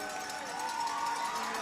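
A hockey crowd at an under-18 game cheering steadily after a goal completing a double hat trick, a dense wash of voices filling the rink under an announcer's commentary.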